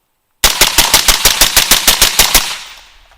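A budget AR-15 rifle with a Mock18 Mod0 setup and a heavier H3 buffer fires a rapid string of about a dozen loud, close shots. The shots come in an even, quick rhythm, then a short echo fades out.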